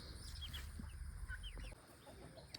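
Laying hens in a mobile coop cluck and murmur softly at a distance, scattered short calls over a low, steady background hum, with no voices.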